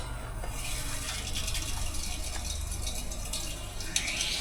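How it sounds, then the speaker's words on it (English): Water runs steadily from a sink tap while the water system of an abandoned bank building is being rebuilt, a continuous broadband gushing rush that holds even through the whole clip, with a brief brighter splash near the end. "The sink is on, so it's going to sound like"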